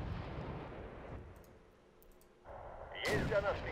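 Booming tank gun hits and explosions in Wargame: European Escalation, heavy rumbling blasts at the start, a brief lull, then a sharp, bright impact with crackling debris near the end.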